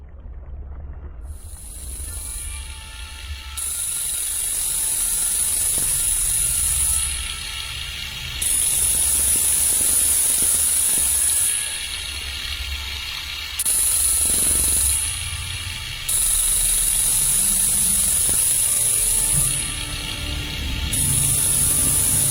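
Acoustic deterrent devices at a Scottish salmon farm emit loud, steady high-pitched tones in repeating bursts of a few seconds, switching on and off over a constant low rumble of water and machinery.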